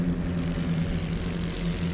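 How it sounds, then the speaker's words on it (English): Propeller warplanes drone steadily overhead above a World War One battlefield in The Great War: Western Front game, a continuous low engine rumble with no voices. "Oh, they've got more planes out."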